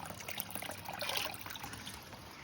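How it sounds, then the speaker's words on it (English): Water runs and trickles into a small plant pot pond, a steady soft gurgling stream heard close up, continuing evenly for a couple of seconds. "See that water's running in"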